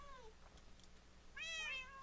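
Minecraft cats meow in a room full of them, two short, clear mews, the second louder and rising, over a quiet game background with no talking.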